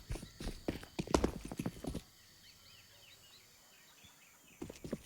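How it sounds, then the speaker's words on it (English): Rapid player footsteps in Counter-Strike on the Ancient map during a professional match patter in quick bursts, fade to quiet ambience with faint bird chirps, then return briefly at the end. "Brolin's going to start to hear these footsteps now"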